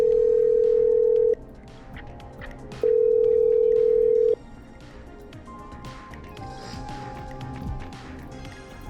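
Telephone line tones in the game Killer Frequency: two long steady tone bursts separated by a pause, loud and close, followed by quieter busy background clatter with faint higher tones.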